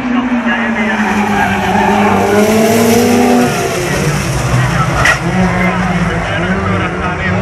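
Folkrace cars skid and spin out at a Finnish league final race in Tampere, with loud tire scrubbing and engine roar sweeping through the whole stretch under a commentator's continuous voice.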